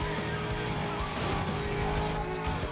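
A Porsche in a Need for Speed racing game drives with a steady engine roar and some tire noise, continuous and loud, with a voice faintly underneath.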